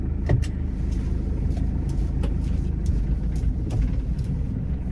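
Hyundai manual-transmission car driving in rain, a steady engine and road rumble from inside the cabin with scattered light ticks and clicks throughout.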